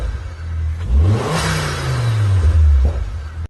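A VW Lupo's 1.4 16-valve, 75 bhp petrol engine revs up close and loud, the pitch climbing swiftly then sliding back down to idle before cutting off.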